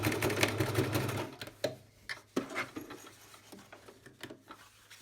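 A sewing machine runs in bursts while backstitching to lock the seam of a fabric drawstring bag sewn with French seams, with a steady mechanical whir that breaks into short stop-start clatters toward the end.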